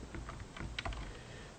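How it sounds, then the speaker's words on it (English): Quick, quiet keystrokes tapped on a computer keyboard in a short burst of typing, soft and close, with one or two slightly sharper clicks partway through. "you can just type equals and start typing something"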